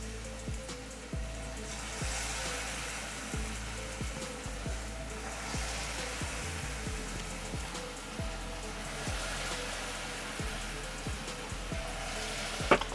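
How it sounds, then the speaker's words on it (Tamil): Kara bonda batter of wheat flour and idli batter fries in hot oil with a dense, continuous sizzle and popping crackle, steady and close with no talking. "இப்போ நம்ம கொஞ்சமாக கையில் எடுத்து ஆயிலில் சேர்த்துடலாம்"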